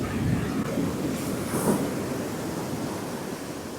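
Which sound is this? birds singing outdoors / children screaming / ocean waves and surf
ocean waves and surf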